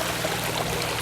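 Water pours steadily over rocks in a backyard waterfall, a continuous close hiss and trickle with no pauses or voices.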